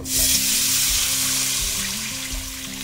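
Tomato and tamarind water poured into a hot pan sets off a loud, steady sizzle and hiss of frying that swells at once and holds, easing slightly toward the end, with no one talking.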